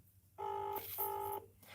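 Outgoing phone call ringing on the line: two evenly spaced electronic ring tones, each buzzing for a fraction of a second, quiet and clear with no voices.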